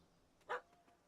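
A single short dog bark, a small pup's yip in The Witcher 3: Wild Hunt, rings out once at moderate volume against quiet game ambience.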